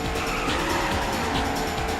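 Engines revving loudly with tire squeal and skidding, a dense continuous racing-car roar that swells and dips without any talk.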